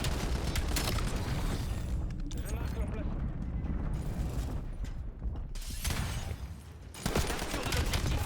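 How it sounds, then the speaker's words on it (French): A precision missile strike lands in a Black Ops 7 multiplayer match, a dense roar of gunfire, mechanical clatter and explosive rumble filling the whole stretch, with a brief lull before the din resumes, a voice talking over it. "L'ennemi a tiré un missile de précision."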